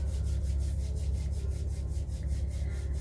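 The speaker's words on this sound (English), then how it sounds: "Just take the hands and rub them together." Hands rub together briskly and steadily during a yoga session, producing a soft continuous swishing friction that pulses rhythmically with each back-and-forth stroke, quiet and close, with no talking.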